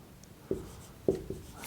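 A marker squeaks across a board in a lecture on AC analysis of RC parallel circuits, making three short, sharp strokes with quiet gaps between them, close and clear.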